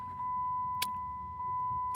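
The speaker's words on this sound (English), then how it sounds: "the car idles" A car idles steadily while running in limp mode, giving a low, even engine rumble with a faint constant whine, broken by two brief sharp clicks.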